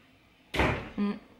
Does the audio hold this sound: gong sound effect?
no